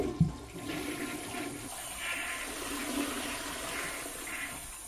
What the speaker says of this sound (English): They flushed that thing down the toilet, Tim.